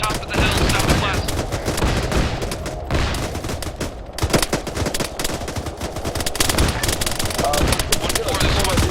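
Sustained gunfire with bursts of rifle and machine-gun fusillade during a hilltop ambush on a military patrol, loud and near, continuous over the whole stretch with overlapping crackling shots.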